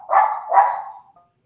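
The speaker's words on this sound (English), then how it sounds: "Whose dog is that?" A dog gives two quick, close barks in a row, the second trailing off into a short whine, with no other sound around it.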